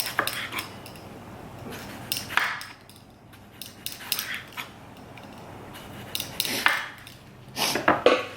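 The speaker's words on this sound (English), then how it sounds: "I'm going to take a tomato and we're just going to slice them into thin little pieces" A knife cuts a tomato into thin slices on a board, with bursts of quick taps and scraping strokes separated by brief pauses, close and clear with no talking.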